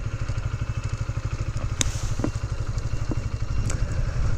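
A motorcycle engine pulses steadily and close by as the rider lets out the clutch in first gear. A few light clicks and rattles sit over the even low throb.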